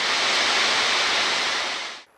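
A waterfall at Mulyon near Kazdon village in Ayni district rushes as a loud, dense, steady hiss of falling water that cuts off abruptly after about two seconds.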